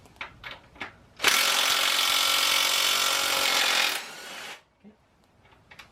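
A Sur Ron Light Bee rear axle nut being loosened with a 19mm socket on a power tool: a continuous loud whirring burst of about three seconds, framed by quieter clicks and handling noises before and after.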